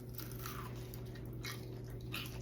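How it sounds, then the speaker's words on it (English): Crispy oven-fried potato wedges bitten and chewed close up, a few soft crunches spaced over a couple of seconds against a low steady background hum. "Listen for the crunch."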